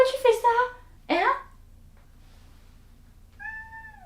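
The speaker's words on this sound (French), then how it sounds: "Je me fais agresser par mon propre chat!" Laska the cat meows several times close by, first a quick run of cries, then a rising drawn-out yowl, and after a pause a softer final mew.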